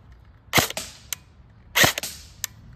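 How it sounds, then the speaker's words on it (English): Stock gun fired at a piece of wood: two sharp, loud cracks about a second apart, each followed by quick smaller clicks and impacts. "It's shooting at this wood right here."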